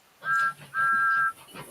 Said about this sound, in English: they still kept Thomas's original whistle